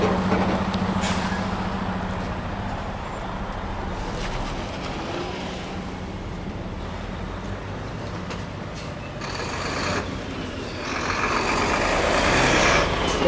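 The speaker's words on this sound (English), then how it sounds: "There's always a lot of traffic on Yonge Street too." Busy street traffic on Yonge Street in Halifax, with trucks and buses rumbling past close by, a hiss of air brakes and swelling engine noise. Faint voices come and go under the steady roar.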